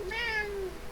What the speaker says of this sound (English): my cat's interjecting his thoughts on this